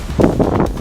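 A gust of wind buffets the microphone at an outdoor baseball game, a low, loud rumbling rush that swells and fades over a short moment with no talk.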